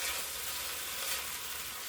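Vegetables sizzle steadily in one tablespoon of olive oil in a pot for black bean soup, giving a constant, even hiss of frying with no voices.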